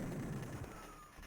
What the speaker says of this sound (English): I'm gonna switch to the rocket launcher